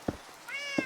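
A Minecraft cat gives two short meows, the second rising into a brief tonal mew, close and clear with no talking.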